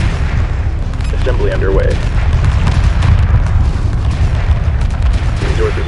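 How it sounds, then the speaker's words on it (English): Dense space combat from the Homeworld strategy game: continuous booming weapons fire and explosions roll under loud low rumble as enemy ships attack a resource collector, with a calm voice giving status reports over the battle. "Resource collector taking enemy fire"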